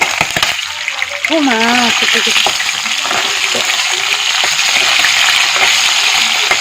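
Pork frying in a pan for a dry fry and being stirred, a steady loud sizzle with scraping stir sounds throughout and a brief voice near the start.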